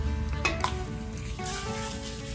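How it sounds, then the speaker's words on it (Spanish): Trimmed beef fat rendering in a hot pan, a dense close sizzle with a couple of clattering stirs near the start, continuing steadily on its own. "vamos a agregar la grasita que le quitamos a la carne"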